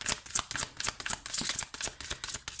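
Tarot cards being shuffled and handled during a draw, a rapid run of crisp riffling flicks and slaps in a steady rhythm, close and fairly loud with no talk.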